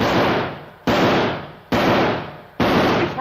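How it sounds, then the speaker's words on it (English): Four loud, evenly spaced rifle shots ring out close by, each a sharp blast trailing into a long echoing decay before the next. "He's firing! He's firing!"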